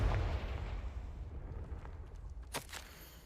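A Confringo spell explodes in the video game Hogwarts Legacy: a deep, rumbling boom that fades away, followed by a couple of sharp crackling bursts near the end.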